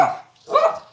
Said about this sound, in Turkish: Bu havlayan Tarçın.